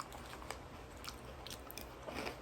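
Crunchy cinnamon crunch cereal being bitten and chewed close to the mic, a string of sharp crackling crunches at an uneven chewing rhythm over a faint background hum.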